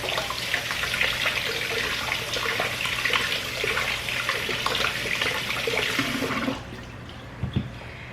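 Red potatoes being rinsed under a running tap, a steady broadband rush of water that stops abruptly near the end, followed by a few faint knocks.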